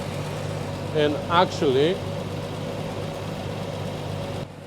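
A 1973 Triumph TR6 engine idles steadily after its ignition timing is retarded, a low even hum running beneath a brief spoken remark before cutting quieter at the end.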